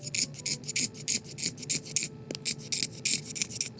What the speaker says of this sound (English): Now we're going to scrape some channels, and this is going to relax the reed a bit.